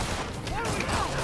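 Gunfire in a Spider-Man video game battle against Electro and Vulture, a rapid, dense rattle of shots running continuously and loud, layered with other game effects and a talking voice.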